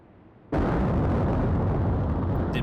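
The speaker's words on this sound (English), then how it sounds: "2 torpedoes strike the triad, and she's sunk." Torpedo explosions sinking a ship in the naval game Atlantic Fleet: quiet low rumble, then one sudden loud blast that holds as a sustained, roaring broadband boom with no voices.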